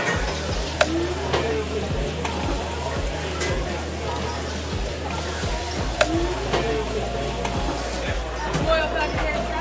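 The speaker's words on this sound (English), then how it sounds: "Just literally drench that lobster in that sauce, and that curry butter." Lobster frying in a pan of curry butter sauce, a steady close sizzle with scattered ticks and scrapes, broken by intermittent low thumps throughout.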